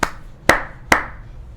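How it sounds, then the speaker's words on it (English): Three sharp hand claps ring out alone at an even rhythm, spaced about half a second apart, close and crisp with a short room decay after each. "3 claps."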